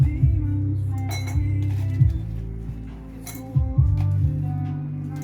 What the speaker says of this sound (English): we get our ice cubes still and put them what? Inside our serving cup.